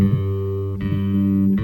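Open G string plucked on a bass guitar, a single sustained low note ringing steadily and clearly, then picked again and left to ring on its own with no talk.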